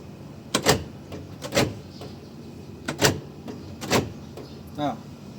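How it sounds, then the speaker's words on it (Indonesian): A car's central locking securing all doors: a series of sharp mechanical clunks and brief motorized whirs, close by and spaced unevenly over several seconds. "Apabila ini ditekan, maka semua pintu akan terkunci"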